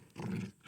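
A dog growls in a video game, a short low rumbling snarl of under a second that swells, holds and then fades, heard close and alone.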